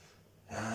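One sharp, loud inhale during yoga practice, close to the microphone, after a quiet pause.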